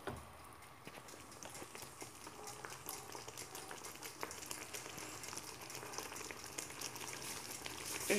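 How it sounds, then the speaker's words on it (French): Cream sauce with chicken and cheese simmering and reducing in a pan, a steady soft bubbling sizzle that stays even and close throughout, with no talk over it. "je vais laisser la sauce se réduire un petit peu"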